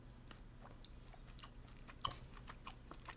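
Someone chews crunchy canned silkworm pupae close up, with faint, irregular crunching and soft wet bites over a low background hum, one sharper crunch standing out midway.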